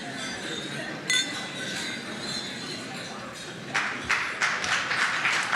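Glasses clink during a toast to the Prime Minister at a state luncheon, a scatter of bright chinks rising from a murmuring room, with a denser flurry of clinks near the end.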